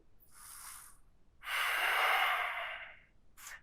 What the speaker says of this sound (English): breathing deep